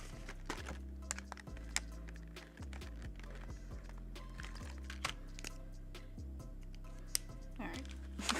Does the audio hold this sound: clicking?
yes